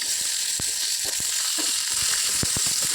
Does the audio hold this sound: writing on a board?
no